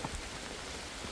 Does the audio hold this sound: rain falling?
yes